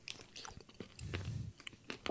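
A crunchy moonshine pickle is bitten and chewed up close, with several sharp crisp crunches followed by a louder, denser burst of mastication and a few more snaps.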